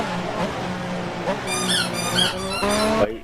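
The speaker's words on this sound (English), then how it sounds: "I'm going to take that squeaky toy away." A dog's squeaky toy gets squeezed close by, producing a quick run of sharp, high squeaks in bursts toward the end over a low background.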